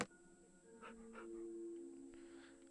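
Dogs in Minecraft making soft panting and whimpering sounds, a few short yelps over a quiet game background, no speech.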